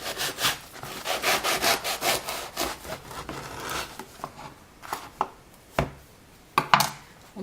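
A knife saws back and forth through a loaf of ciabatta sourdough bread, a rough, rasping stroke repeated rhythmically up close, then slower, separate crunching cuts.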